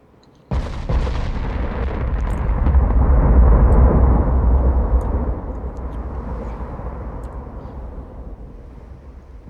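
Heavy 8-inch naval guns fire in the warship game Ultimate Admirals Dreadnoughts, a sudden loud boom opening into a long rolling, rumbling barrage that swells and then slowly fades into a dense roar.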